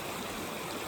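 Ice-cold snowmelt stream in the mountains of Grand Teton National Park, flowing in a steady, dense rushing wash close by, with no voices.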